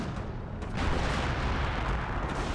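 Artillery fire rumbles through a Company of Heroes battle, a dense, continuous roar of booms and blasts with one sharper impact early on, loud and unbroken throughout.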